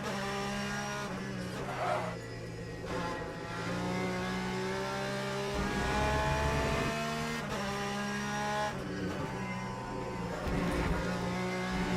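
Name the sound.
race car driving in the video game Le Mans Ultimate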